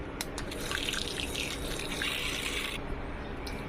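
A body butter mixture of water phase blended into oil phase whirs steadily under a blender, a continuous close liquid churning and rushing sound that eases off near the end, with no talk.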